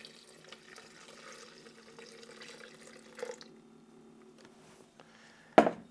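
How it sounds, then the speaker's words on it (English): Celery juice is poured in a quiet, faint trickle of liquid, with a few soft splashes and a sharper clink or splash near the end. "I'm gonna pour my celery juice here."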